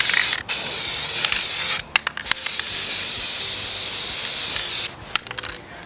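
Textured black spray paint hissing from an aerosol can onto a planter, long steady bursts broken by short pauses and quick taps of the nozzle, loud and close with no talking.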